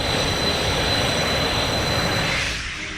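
Rafale fighter jet flying: a loud, broad, continuous roar that holds steady and then eases slightly toward the end, with no voices.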